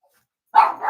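A single sharp dog bark close by, breaking a silence and trailing into a short second yelp.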